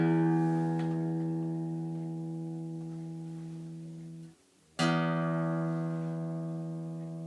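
A guitar's open low E string plucked and left to ring, sustaining a steady tone that slowly decays, then cut off briefly and plucked again with a fresh bright attack, clear and alone.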